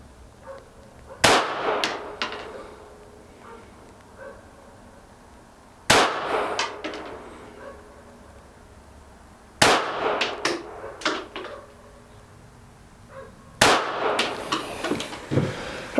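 Several sharp, loud reports from a Ruger Mark IV pistol ring out a few seconds apart, each a crisp crack with a short clattering tail, outdoors with quiet in between.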